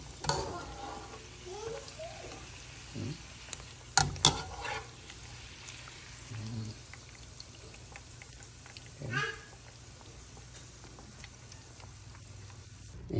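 Pork adobo frying in its own rendered fat, a soft continuous sizzle broken by a few sharp clinks and stirring scrapes, with faint background voices and noise.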